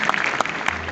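Audience clapping at a company director's speech in India, a steady broadband patter of applause throughout with a few sharper bursts, no talking over it.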